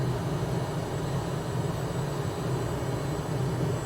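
Cessna Citation Mustang business jet at full thrust on a rough approach toward a runway in Microsoft Flight Simulator, a steady loud roar of jet engine noise with a deep rumbling low end, constant and unbroken with no voices.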